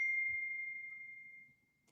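A phone's text message notification rings out as a single clear, bright ding that slowly fades over about a second and a half, in a quiet room.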